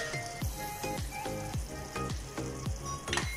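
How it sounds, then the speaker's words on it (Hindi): Chicken with ginger sizzles steadily in a pan as ketchup goes in, with repeated rhythmic stirring scrapes about every half second and no one talking. "अब इसमें हम केचप डाल देंगे,"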